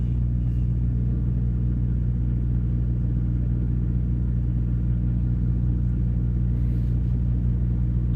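A truck engine idles in a steady, deep, loud rumble that stays even throughout, with no speech.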